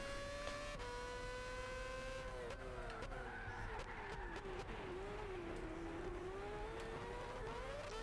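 Race car engine in Gran Turismo 6 on the Nürburgring, revving high and shifting through gears, pitch falling and climbing steadily as it works through corners, loud and continuous throughout.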